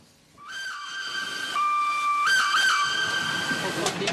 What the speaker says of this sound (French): Bienvenue à bord du train à vapeur tracté par la 241 P17, une locomotive de légende